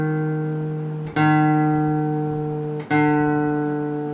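Guitar D string plucked during a lesson while being tuned down to D: a sustained, ringing low note with bright overtones, struck three times about every 1.7 seconds, close and clear with no talking.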